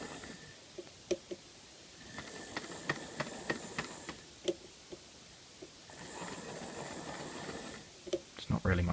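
Custom-built Toby model train on a modern Hornby 0-4-0 chassis running with a steady hiss and whir, faint rhythmic clicks over the track, and a couple of stretches of louder hissing steam effect.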